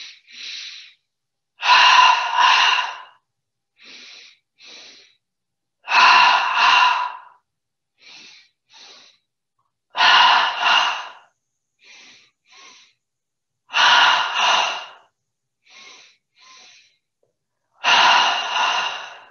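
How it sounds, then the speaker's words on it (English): During a seated yoga session, a person takes repeated double inhalations through the nose, each pair of sharp sniffing breaths followed by quieter breaths, in a steady cycle with silence between. "Starting breathing in through the nose twice, focusing on the belly."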